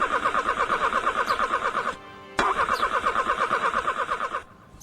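A car engine cranks over and over without catching, its rapid starter whine repeating in two long bursts with a short pause between them, loud and close with no voices.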